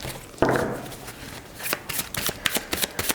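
Symbolon oracle cards are shuffled for a reading. A sharp riffle burst comes first, then a quiet pause, then a run of quick, close rustling and tapping shuffles.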